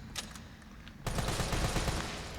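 Rapid automatic gunfire from the Resident Evil 3 Remake video game bursts in partway through as a dense, continuous rattle after a quieter stretch of faint clicks and game sounds.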